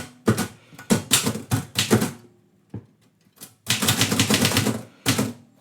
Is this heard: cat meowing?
no